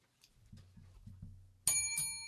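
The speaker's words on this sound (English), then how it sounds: "You don't have to hit the bell." A bicycle bell rings sharply twice in quick succession near the end, each ring bright and close with a lingering metallic shimmer, following a stretch of low murmuring background sounds.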